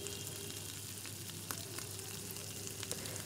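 Marinated mutton fries in oil with garlic over a high flame for Bengali kasha mangsho, giving a quiet, continuous sizzle with faint clicks and small pops throughout.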